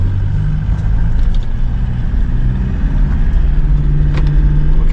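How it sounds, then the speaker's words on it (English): Morning road traffic heard from inside a moving car, with a steady, loud engine and road rumble and a low drone throughout, some faint higher noise above it, and no voices. "There's a lot of traffic right now."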